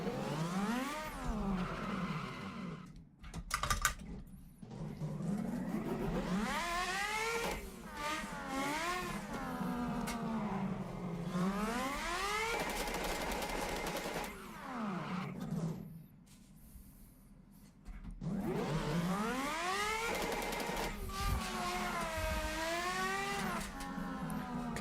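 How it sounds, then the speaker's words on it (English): A car spinning handbrake-initiated donuts while drifting, engine revving in long rising and falling sweeps with tyres squealing, loud and close, with a brief lull midway before the revving picks up again. "So I initiated that drift with the handbrake."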